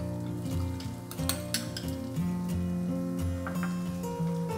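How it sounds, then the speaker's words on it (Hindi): Grated ginger, green chili and carrot frying in a pan give a steady sizzle, with utensil scrapes and a few clinks from stirring, no voices. "घसा हुआ अदरक, हरी मिर्च, इसे हल्का भून देंगे।"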